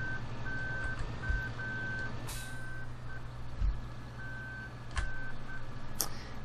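Reversing beeps from a Manitou telehandler in Farming Simulator 2013, a steady series of evenly spaced electronic tones over a low engine drone, with a few sharp mechanical clunks.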